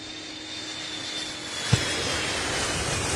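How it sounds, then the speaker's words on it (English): A KC-135 refueler taking off at an Air Force base air show, a steady broad jet roar at moderate distance with a single sharp knock partway through, no talk. "The aircraft taken off. This is one of those refuelers."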